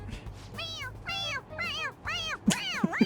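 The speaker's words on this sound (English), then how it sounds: "It meows when you press on its head." Stuffed toy cat in the game Persona 5 Royal giving a series of five clear, close meows when pressed, one after another, with faint background game sound beneath.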